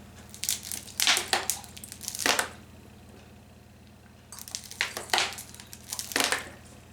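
A plastic bottle squeezed and crinkled in the hand, giving several bursts of crisp crackling in two clusters separated by a quieter pause, close and fairly soft over a low steady hum.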